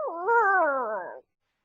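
A voice imitates the long, mournful howl of an arachnojacks creature: one sustained, wavering cry that rises and then slowly falls, close and clear, ending abruptly in silence.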